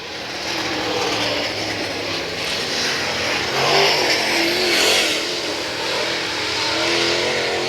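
Race cars roaring around the dirt oval at Brownstown Speedway during Saturday night racing, loud engines revving and swelling as they pass, a continuous rising and falling drone with no voices.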